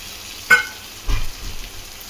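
Cut taro root pieces tipped into a hot pan of softened tomatoes: a sharp clink, then a burst of sizzling frying that settles into a softer crackle.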